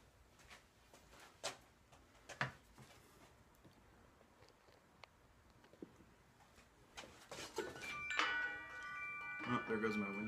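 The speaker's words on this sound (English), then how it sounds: "there goes my wind chime" A wind chime rings at a woodworker's outdoor bench during black locust bow work: bright, overlapping metallic tones shimmer in near the end, after quiet rustling and a few soft knocks, with a person talking nearby.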